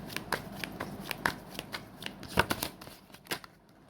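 Tarot cards are shuffled in a steady run of crisp riffling flicks and snaps, close and fairly quiet, with no voices over them.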